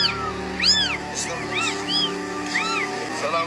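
A small kitten meows repeatedly in a phone-recorded clip, its thin rising-and-falling cries coming close together and clear over a faint steady background hum.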